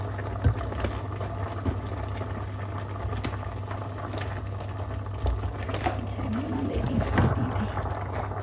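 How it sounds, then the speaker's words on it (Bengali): Pieces of bottle gourd go into a pan where prawns are cooking, giving a steady sizzle and bubbling with occasional small pops and stirring taps, fairly close and even throughout. "এখন আমি লাউগুলো দিয়ে দিব।"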